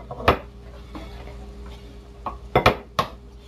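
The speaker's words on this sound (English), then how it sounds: "Throw a little bit of pasta on our plate." Pasta is served onto a plate in a home kitchen, giving a few sharp clinks and scrapes of utensil against dishware, spaced irregularly and close, with quiet gaps between.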